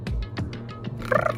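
A voice imitates a pigeon-like purr with a short run of throaty, bubbling pulses followed by a brief warbling, gobble-like flutter, close and fairly loud.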